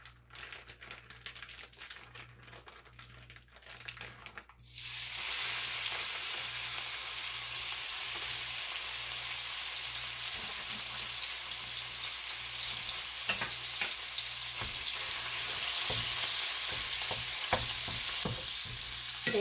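Half a pound of ground beef hits a hot pan and browns with a loud, steady sizzle that persists, broken by occasional scraping and stirring clicks, with no talking.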